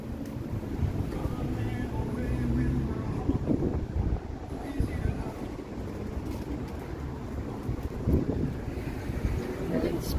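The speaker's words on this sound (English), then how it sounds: "It's pretty breezy out here today" Steady wind blows outdoors on a breezy city evening in Toronto ahead of possible thunderstorms, buffeting the microphone with a constant low rumble and gusts, while a person talks.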